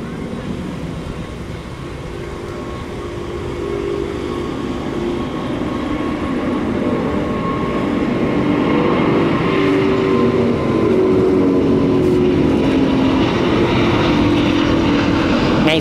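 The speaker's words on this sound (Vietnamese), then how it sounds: "Ngay sau khi chiếc máy bay Airbus A350-900 cất cánh rời khỏi sân bay Tân Sơn Nhất" A China Airlines Airbus A350-900 taking off from Tan Son Nhat airport, a steady, loud jet engine roar that slowly swells over about fifteen seconds, with no voices.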